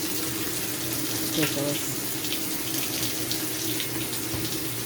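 Water runs steadily from a tap into a washing machine holding bath cloths and detergent pods, a continuous close splashing stream with a short spoken remark over it.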